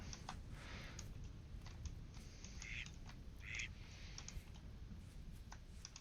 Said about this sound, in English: Oh, hey, ducks.